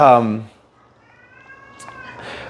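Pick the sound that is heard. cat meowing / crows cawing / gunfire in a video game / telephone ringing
cat meowing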